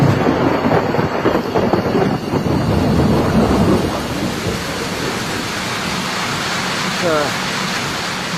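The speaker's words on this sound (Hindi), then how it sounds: "पिछले करीब 4 घंटों से बारिश हो रही है और बिजली चमक रही है, बादल गरज रहे हैं।" Steady heavy rain hisses throughout with low rumbling thunder swelling in the first half, then the downpour continues more evenly.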